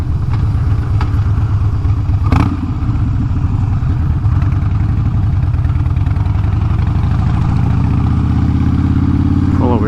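A motorcycle engine runs steadily at idle or low speed while the rider cruises through a park, a loud, continuous rumble with a brief sharp burst of noise early on.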